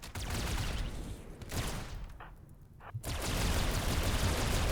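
Gunfire in the colony game RimWorld: dense bursts of rapid shots at the start and again through the second half, broken by a quieter gap with a couple of brief tones.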